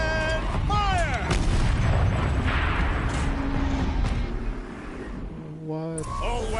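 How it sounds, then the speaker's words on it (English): Heavy turret cannon fire in Horizon Zero Dawn, a booming blast with rumbling tail that rolls on for several seconds, set among whining mechanical machine sounds and layered game effects, with voices speaking over parts of it. "Rotate turret! And fire!"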